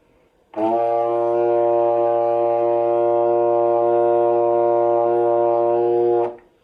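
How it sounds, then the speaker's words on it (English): A trombone holds one low, steady B flat for several seconds at even volume, then stops cleanly. "We're gonna play our low note, which is B flat."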